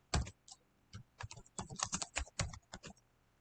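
Computer keyboard typing in quick, irregular bursts of close, crisp key clicks, with short pauses between clusters and no voices.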